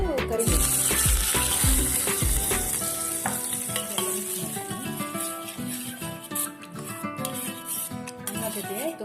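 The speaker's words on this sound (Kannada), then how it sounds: "ಈಗ ಒಗ್ಗರಣೆ ಹಾಕ್ತಿದ್ದೀನಿ. ಉದ್ದಿನಬೇಳೆ ಮತ್ತೆ ಸಾಸಿವೆ ಮತ್ತೆ 5ರಿಂದ 6 ಕರಿಬೇವು." Urad dal, mustard seeds and curry leaves tempering in hot oil for a brinjal gojju in an Udupi-style kitchen, a dense close crackling sizzle with sputtering pops and clattering stirring throughout.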